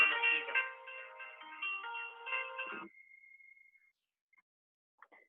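A mobile phone ringtone for an incoming call from an unknown number plays a bright melodic tune for about three seconds, then cuts off abruptly, leaving a faint tone and near silence.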